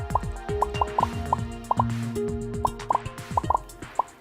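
Wet toilet plops from the video game Movie Studio Tycoon, a steady, irregular stream of loud close drips and splashy drops repeating throughout over low musical tones.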